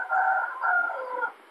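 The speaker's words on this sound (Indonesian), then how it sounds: "masih ada ayam ya. Ayamnya kesiangan itu kelihatannya." A rooster crows in the morning, a single drawn-out call of several rising and falling segments, clear and fairly close, with no talking.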